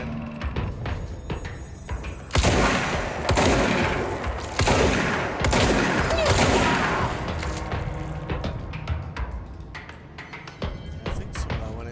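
Shotgun blasts in the video game Control, heavy booming shots fired repeatedly over about twelve seconds amid a dense, loud wash of combat noise and rumbling impacts.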